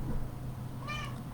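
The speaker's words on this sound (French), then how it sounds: "c'est ma Minette qui est en train de miauler" A pet cat lets out a single drawn-out meow midway through, moderately clear above a steady background hum, with no talking.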